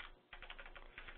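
A short, quick run of keystrokes on a computer keyboard, close and soft, with a brief gap near the start. No voices.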